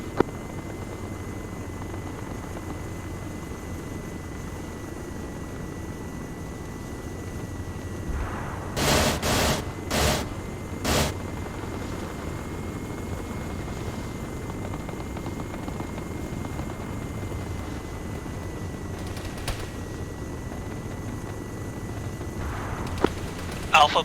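Military helicopters, a Chinook and a Huey, in a video game give a steady droning rotor hum throughout, with radio chatter and a few brief bursts of sound over it.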